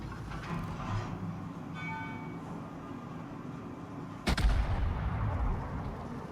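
Warship gunfire in the naval game World of Warships: a steady rumbling background gives way to one sudden heavy boom, followed by a loud, rolling low-end roar that lasts to the end.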